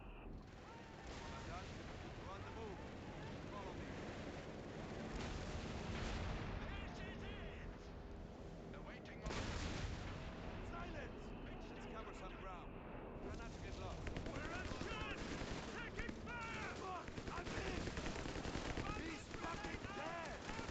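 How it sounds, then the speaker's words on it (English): Continuous battlefield din from Company of Heroes 3: booming artillery shells and rattling gunfire overlap densely for the whole stretch, loud and unbroken, with a voice speaking underneath. "It's that goddamn artillery again."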